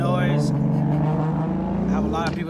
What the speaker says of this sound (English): I have a lot of people that come through here in my neighborhood and with loud cars and stuff.